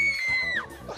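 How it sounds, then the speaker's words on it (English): An audience member at a stage magic show lets out a loud, close scream that holds a high pitch, then bends downward and trails off, all within a second. "Just give us your best scream there."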